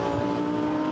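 A GT race car in Blancpain GT Series Sprint Cup qualifying at the Hungaroring braking hard and dropping through gears into a corner, a loud, close, continuous engine roar with steady harmonic whine.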